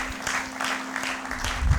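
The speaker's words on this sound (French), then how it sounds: "Acclamez pour la gloire de notre Dieu" A church congregation claps and cheers in steady, dense applause that fills the room, with voices mixed into the clapping and a low hum underneath.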